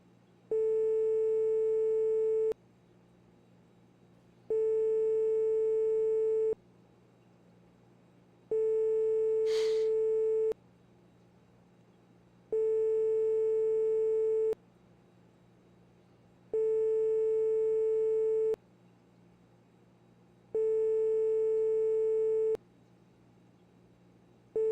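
Telephone ringback tone while a call waits to be answered: a steady electronic tone in regular two-second pulses separated by equal gaps, repeating about six times over a faint hum.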